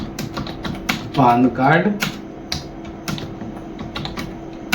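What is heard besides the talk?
typing on a computer keyboard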